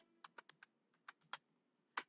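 Typing on a computer keyboard while entering data in Tally Prime accounting software: about eight sharp, close keystrokes in an irregular rhythm, fairly quiet, with no talking.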